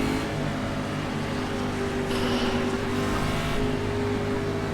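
NASCAR Cup Series race cars at Daytona International Speedway in the iRacing video game, a dense, loud, continuous roar of engines running at speed with a steady pitched drone and no break.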